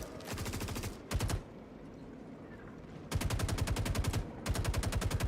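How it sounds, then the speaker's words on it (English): Bursts of rapid automatic gunfire in the Star Citizen video game, two long sustained volleys broken by brief pauses and short gaps of quieter ambience, loud and close. "Laying down, covering fire."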